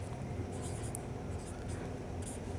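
Handwriting while solving a maths exam paper, faint scratchy pen strokes in short bursts, sitting under a steady murmur of background noise.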